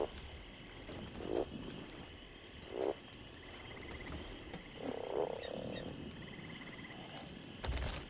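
A Beelzebufo frog croaks in ARK Fjordur at night, several low bursts spaced apart over a faint insect-like ambient hum, with a final short croak at the end.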